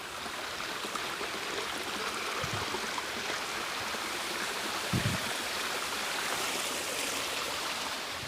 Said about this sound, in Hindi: तो साफ साफ आपको पानी की आवाज़ के साथ पक्षियों की आवाज़ सुनाई देगी